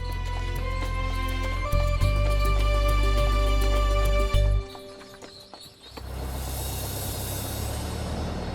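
A horse-drawn buggy rolls along with steady clip-clop of hooves under a loud musical score that drops out midway, leaving a brief lull before noisy ambience returns.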